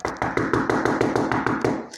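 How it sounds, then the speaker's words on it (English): A door knocked on by hand, a run of about a dozen close, even raps in quick succession. "Kit knocked on the door to Miss Hart and Miss Finney's room."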